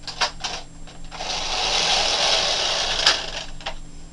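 A knitting machine carriage slides across a row of stitches, giving a close, rushing mechanical swish preceded and followed by a few light clicks and clatters.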